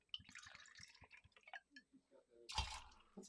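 Vodka glugs from a bottle into a measure for a three-ounce cocktail pour, a short splash of liquid rising after scattered clinks and soft handling noises, with a voice heard faintly earlier.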